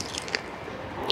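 A bite through the thick, crunchy skin of a grilled Polish sausage from a Krakow street stall, heard as a brief close-up crunch and squish, with no talking.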